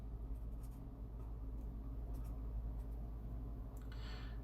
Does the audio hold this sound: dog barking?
no